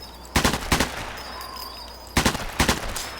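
Two short bursts from a fully automatic weapon in the video game Sniper Elite 4, each a rapid cluster of a few loud shots, separated by a pause of quieter ambient hum.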